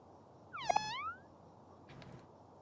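Cats in the game OMORI meow once with a clear rising-and-falling cry, a second fainter meow-like sound follows about a second later, over a quiet hum.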